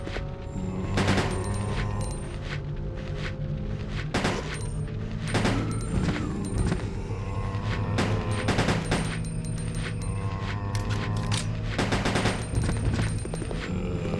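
Rapid gunfire from a weapon in the video game Resident Evil Code: Veronica X, loud bursts of repeated shots and booming blasts over a constant game soundtrack throughout.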